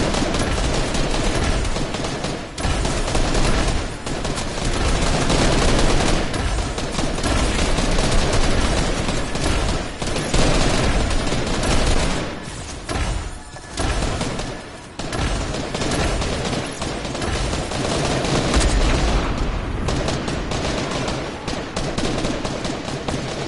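Fortnite gunfire fills the scene with dense, continuous volleys of shots and rapid automatic bursts, loud and close, with only brief dips in the barrage.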